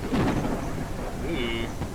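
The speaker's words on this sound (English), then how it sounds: "Like the thunder and stuff, I mean, it sounds really good." Thunder rumbling with steady rain in a ranch simulator game, a continuous stormy wash with a low roll of thunder and a brief tonal cue near the end, under a faint voice.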